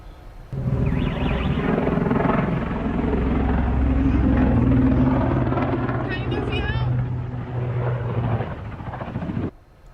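Heavy droning engine rumble from a passenger plane falling out of the sky over Brazil, steady and loud for most of the span with a strained tonal whine, then cutting off abruptly near the end; a voice seems to speak faintly underneath.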